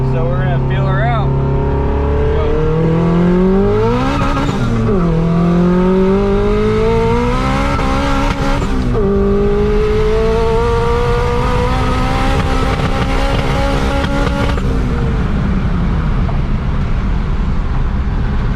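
A built Honda H22-engined third-generation Prelude pulls hard on the street through second, third and fourth gear, its engine note climbing steeply and dropping at each shift, loud and close, with a slight stumble partway through.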